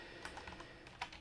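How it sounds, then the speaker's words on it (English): Quiet, quick keystrokes on a computer keyboard, a loose irregular patter of small clicks with a couple of sharper taps, no voices. "I'm not typing it in the right place"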